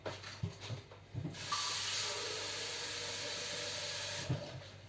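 Steam hisses loudly from a Ninja Speedi cooker after water is added to steam potatoes, a steady breathy rush rising after a few soft clicks and lasting several seconds before easing off.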